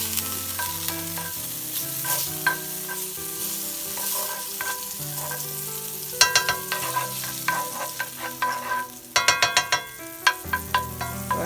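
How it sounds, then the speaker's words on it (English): Butter melting in a hot skillet for a venison deer heart recipe sizzles loudly and steadily, with sharp clinks and scraping stirs coming through close up; no one speaks. "my skillet is hot, so what I'm gonna do is I'm gonna add my butter in here. I'm gonna let the butter melt"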